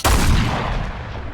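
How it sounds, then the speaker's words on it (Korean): A single heavy cannon blast from British artillery booms out with a sharp onset and a long, rumbling decay that fades over about a second. "영국군 대포가 불을 뿜었습니다."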